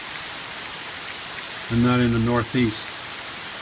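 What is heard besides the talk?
rain falling outside a van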